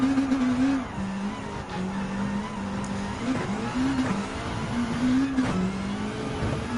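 Group B race cars in Gran Turismo 7 drone loudly and steadily, their engine tone rising and falling through gear changes as they run together, with no voices over them.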